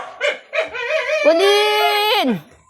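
A puppy gives a whimpering, howling yelp that rises into a sustained whine, close and fairly loud, heard alone without talk.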